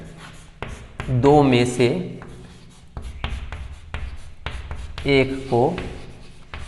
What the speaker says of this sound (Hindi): तो हम लिखेंगे समीकरण